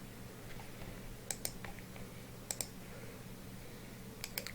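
Computer mouse clicks during WordPress theme editing, a handful of faint, sharp clicks in small pairs spread over a quiet background.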